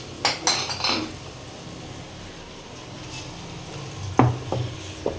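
Spices for a gravy are roasted and stirred in a pan. A spoon clinks and scrapes in a few bursts at the start and near the end, with a low steady hiss of cooking in between.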